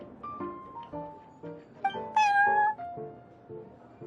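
A cat named Prince meows in the Cat's Tail tavern in Genshin Impact, a series of short close mews followed by one longer, rising drawn-out meow, then a few more brief calls.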